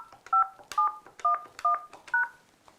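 Five crisp keypad tones on an X7 desk handset tap in a voicemail PIN, evenly spaced beeps with a faint click at each press, close and clear with no talking.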